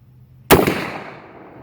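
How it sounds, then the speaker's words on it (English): A single sharp, loud shot from a New England 12 gauge magnum slug gun cracks after a quiet moment outdoors, and its echo rolls away and decays. "Let me shoot a couple more out of it before I get tired of it."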